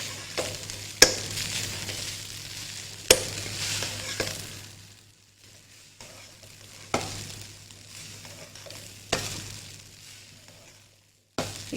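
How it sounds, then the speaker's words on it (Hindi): A spoon stirs spiced rice in a pan, a soft scraping shuffle over a low steady hiss, broken by a few sharp knocks against the pan rim, with brief pauses between bursts of mixing. "मिक्सिंग इसकी बहुत अच्छी करनी है आपने, ताकि सारे स्पाइसेस जो हैं वो अच्छी तरह से मिक्स हो जाएं राइस के अंदर"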